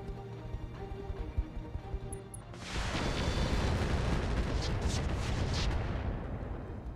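Weapons fire striking battlemechs in RogueTech, a dense, loud barrage of booming impacts and crackling blasts that erupts after a quieter opening and rolls on continuously.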